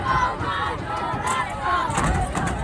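A stadium crowd at the Marshall Islands' first-ever soccer game roars in a sustained, loud wash of cheering and shouting as the team approaches the stands after the match.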